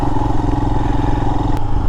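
A 2022 Royal Enfield Himalayan motorcycle on the move gives a steady, close engine drone with a low rhythmic thump, plus rattle and clatter from the ride.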